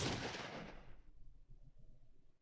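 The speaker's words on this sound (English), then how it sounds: "Can I interest you in a gunshot to the head, point blank?" Point-blank gunshot in Fallout 2, one loud close blast with a booming tail that fades out over a second or two, followed by low rumbling.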